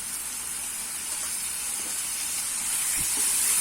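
Ground masala sautéing in a pan for Salem-style street-food bun masala gives a steady, bright sizzling hiss that swells slightly louder toward the end, with no talking.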